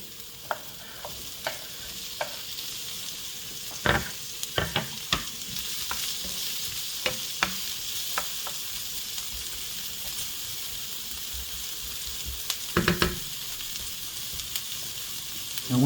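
Peppers fry in a pan with browning onions, a soft continuous sizzle broken by scattered clicks and scraping stirs, with a louder clatter near the end.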